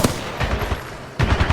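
Sustained automatic gunfire laying down suppressing fire in the Titanfall 2 campaign, a dense rapid burst that briefly breaks off and then resumes, loud and close with no talk.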